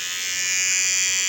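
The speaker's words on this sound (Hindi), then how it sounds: "ये देख सकते हैं ये ट्रिमर जो है वो काफ़ी अच्छा चल रहा है इस नए वाले सेल के ऊपर।" Electric hair trimmer powered by a repaired 18650 3.7 V lithium cell, running steadily with a loud, close, continuous high-pitched buzz and no break for the whole moment.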